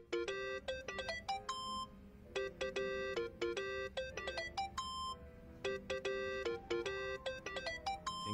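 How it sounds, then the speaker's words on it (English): A mobile phone rings in the video game Yakuza: Like a Dragon, a bright electronic melodic ringtone repeating in clear, regular bursts, loud and alone with no talking. "I think that's your phone, man."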